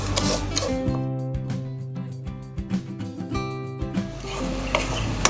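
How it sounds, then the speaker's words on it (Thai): Sugar and milk simmer over low heat into caramel in a pan, with a steady soft sizzle and repeated scraping of a spoon stirring through the mixture, close and continuous with no talk. "เราก็ใช้ไฟอ่อนเคี่ยวจนให้น้ำตาลละลายนะครับ"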